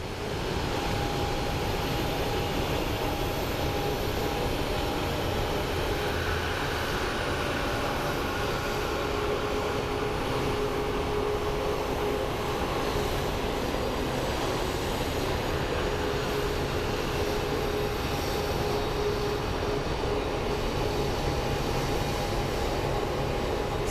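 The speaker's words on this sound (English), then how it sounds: "we have another Frontier that is coming in for a landing" A Frontier Airlines jet comes in to land at Phoenix Sky Harbor, its engines a steady distant roar with a faint whine, set against outdoor ambience.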